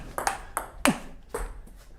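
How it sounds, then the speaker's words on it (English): Table tennis ball striking a Rasanter 37 rubber, the softest of the Rasanter sponges, in a rally of five sharp, bright clicks spaced roughly evenly, close and fairly loud with no voices. "So already you can hear the sound, it's a little bit louder with this rubber."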